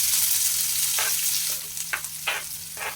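Chopped onions sizzle in hot oil after mustard seeds have spluttered, a dense steady frying hiss joined by several sharp stirring scrapes and crackling bursts near the pan.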